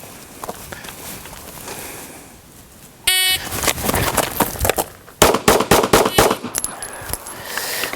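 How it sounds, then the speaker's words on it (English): Pistol shots fired by a shooter running forward at a target: a sharp crack, then a rapid string of loud, closely spaced reports and a second burst of several more shots, with no voices. "I'm going to draw my gun and actually run forward to the bad guy"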